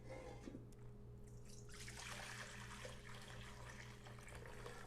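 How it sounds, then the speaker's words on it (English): Cooking juice from lamb being made into stuffed grape leaves pours steadily into a bowl, a soft continuous trickling and splashing, close and quiet under a faint hum. "I'm gonna pour that in a bowl here."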